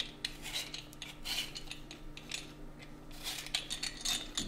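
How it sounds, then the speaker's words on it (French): A knife peels and cuts an apple into quarters in a home kitchen, giving soft, close scraping and slicing strokes in an irregular rhythm, with light clicks of the blade and no talk. "je vais peler et on va couper en quartier la pomme"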